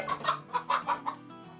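A hen clucks in a string of short, close, fairly loud calls with brief pauses between them, alone with no talk, inside a small poultry-rearing setup.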